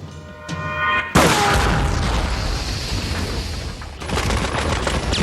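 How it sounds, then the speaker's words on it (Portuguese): Reconstructed shootout from the Munich Olympic massacre: a sharp loud blast followed by sustained rapid gunfire and booms, dense and chaotic, with a second burst near the end. "Porém, não conseguem eliminar os terroristas, mas provocaram um tiroteio selvagem."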